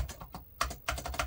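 Keys are tapped on a Toshiba HX-10 MSX computer keyboard that has a couple of dead keys. The presses come close and clear, in an uneven run of sharp clicks with short pauses between them.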